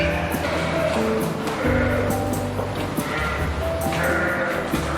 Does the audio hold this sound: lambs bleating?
yes